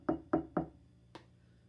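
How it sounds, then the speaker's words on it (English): Three quick knocks on a door at a steady pace, followed after a short pause by one lighter knock, close and clear with no talk over them. "He knocked on the door"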